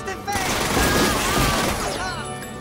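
Rapid gunfire bursts from the 2000 film Battle Royale, loud and dense automatic shots with ringing tones, heard under someone talking over the scene.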